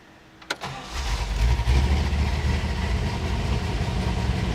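A car with a five-speed manual gearbox cranks briefly, fires up and settles into a steady, rumbling idle close by, the low engine note holding even with no talking over it.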